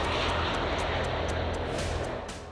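A Ryanair passenger airliner in flight bound for Vilnius, Lithuania, gives a loud, steady broadband engine roar with no voices, easing slightly toward the end.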